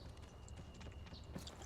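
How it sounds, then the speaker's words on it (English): Footsteps approach during a multiplayer clan battle in the shooter Interstellar Marines, a faint, steady patter of steps under low background noise. "Footsteps, I hear footsteps."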